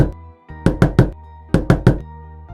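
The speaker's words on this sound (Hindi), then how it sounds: "अगली सुबह 5 बजे उसकी सास दरवाजा खटखटाती है।" A mother-in-law knocks on a door early in the morning in a Hindi cartoon: two close sets of three firm knocks, loud and near, over a faint steady background tone.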